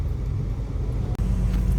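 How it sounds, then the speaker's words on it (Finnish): A jeepney, a public bus in the Philippines, rumbles past on a street with a steady low engine and road noise, close and fairly loud, with no talking. "Tää on julkinen bussi."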